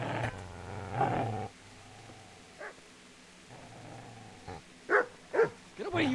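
Dog snarls and growls in a video game, several short loud bursts with harmonic snarling at the start and a quick run of sharp yelps near the end, separated by quiet gaps.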